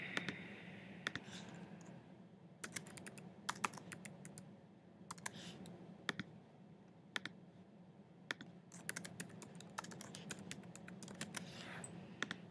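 Typing on a computer keyboard, a steady stream of sharp clicks and taps with occasional louder key strikes over a low room hum, no voices.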